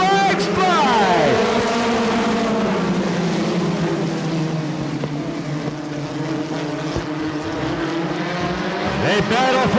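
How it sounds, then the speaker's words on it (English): USAC National Midget race cars roar at the start of a race in Kansas City, a loud sustained engine drone with rising and falling pitch sweeps as cars pass, under a commentator's voice. "The engines roar, the green flags fly."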